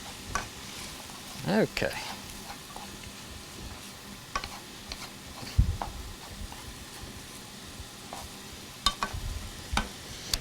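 Onions stirred and frying in a pan for Mexican lasagna, a soft continuous sizzle broken by scattered scrapes and utensil clinks, with a short spoken word near the start.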